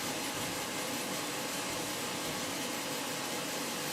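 A ROEST coffee roaster runs in fan mode, giving a steady, loud, broadband airy roar that holds constant without change or pauses, with no talking.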